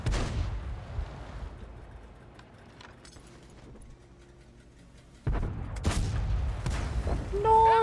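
Tank guns firing in World of Tanks, a heavy booming shot at the start, a quieter stretch with faint engine rumble, then another loud blast and rumble near the end.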